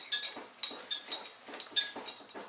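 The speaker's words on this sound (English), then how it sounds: "So you're going to go ahead and mix this up" A utensil clinks steadily against a bowl while a cheesecake crust is mixed with melted butter, giving a quick, regular run of bright scraping taps close by, with no talking.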